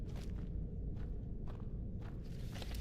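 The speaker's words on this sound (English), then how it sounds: "I hear footsteps." Footsteps in Skyrim thud at a slow, even pace, about one step every half second, over a low rumbling ambience.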